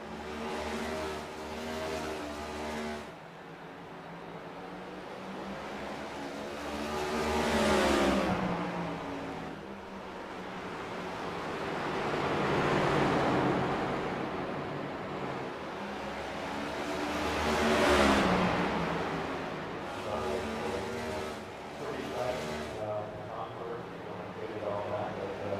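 Race car engines in iRacing at North Wilkesboro rise and fall as cars sweep past in repeated waves, a steady droning roar with a commentator talking over it.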